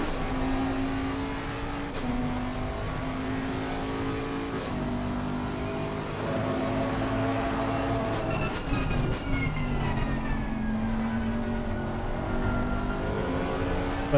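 Onboard engine of a Bentley GT3 race car lapping Barcelona in a racing video game, a loud continuous engine note rising and falling through gear changes and braking, heard up close without talking.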